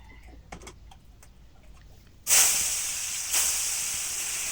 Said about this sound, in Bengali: আর এদিকে আলু ভাজি করছি